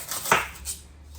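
A sharp knife slices through carving foam in a single quick, close cut, a soft scraping swish that fades out over about a second.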